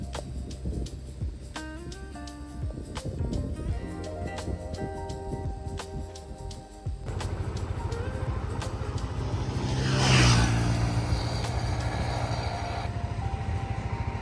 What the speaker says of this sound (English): And just hundreds and hundreds of trucks loaded with the sugarcane.